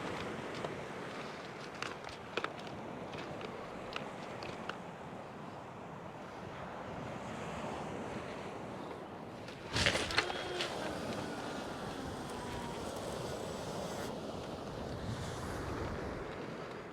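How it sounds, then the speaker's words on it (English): A strong side wind blows across the Bristol Channel shore, roaring and buffeting the microphone in a steady rush over distant surf, with a few brief knocks and a sharper gust near the middle. "Loads of side wind."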